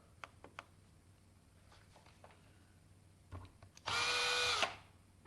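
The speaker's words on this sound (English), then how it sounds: "And then just drill one other hole." A small power drill bores a hole in a PlayStation 4 controller shell for a paddle, one loud high whine lasting under a second after a few light clicks and taps of handling.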